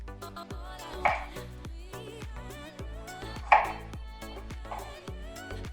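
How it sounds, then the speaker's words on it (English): A knife chops through lemons and limes on a cutting board while preparing a ginger turmeric juice, giving two sharp, fairly close thuds a couple of seconds apart over a faint musical background. "Now that my lemons and limes are chopped"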